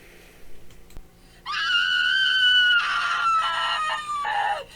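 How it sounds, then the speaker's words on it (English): A long, piercing shriek of terror rings out loud and close, held for about three seconds with a wavering, breaking pitch before it trails off. "I nearly jumped to my feet at the shriek of terror."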